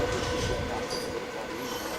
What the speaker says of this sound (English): There goes the train.